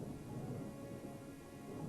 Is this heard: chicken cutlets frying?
no